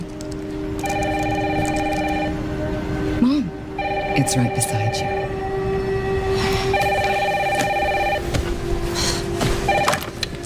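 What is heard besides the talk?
telephone ringing, in a video game trailer (Resident Evil 9: Requiem)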